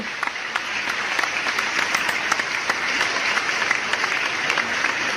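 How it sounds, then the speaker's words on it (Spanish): A church congregation bursts into steady, even applause, many hands clapping at moderate distance for several seconds without talk. "¿Quién dice amén y quién le da un fuerte aplauso?"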